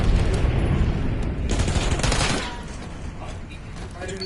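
Rapid bursts of gunfire from a video game battle, dense and loud over the first couple of seconds, then thinning into scattered shots under a steady background rumble.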